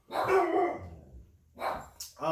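A dog barks close and loud, two bursts about a second apart, the first long and rough, with a human voice overlapping near the end.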